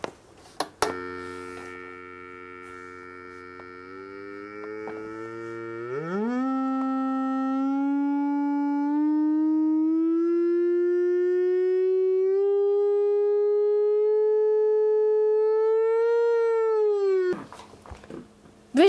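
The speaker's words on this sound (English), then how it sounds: "This one here is tuned to the note A, 440." An organ pipe tuned to A 440 sounds a sustained, rich harmonic tone that rises in pitch, swells and holds steady for many seconds before cutting off.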